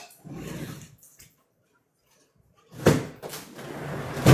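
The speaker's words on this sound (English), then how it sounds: "I got to close this door, find that fly" A house door is closed with a sharp knock and bump, followed by further close clattering handling sounds after a short quiet pause.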